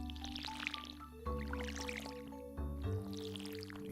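Watering can pouring water onto tilled soil in Stardew Valley, a bright bubbly splash and trickle effect repeating in a few short bursts over steady background game music.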